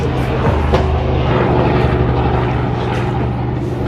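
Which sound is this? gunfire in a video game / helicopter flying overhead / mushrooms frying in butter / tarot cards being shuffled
helicopter flying overhead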